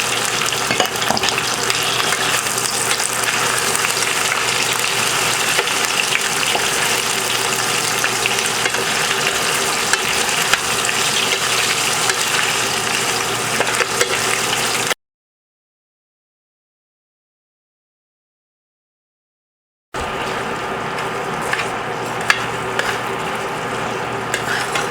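Tofu frying in a pan with browned onion and garlic for vegetarian pad thai, a loud, dense, continuous sizzle with occasional stirring scrapes, broken by a few seconds of total silence before resuming.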